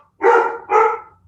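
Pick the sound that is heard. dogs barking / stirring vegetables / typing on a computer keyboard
dogs barking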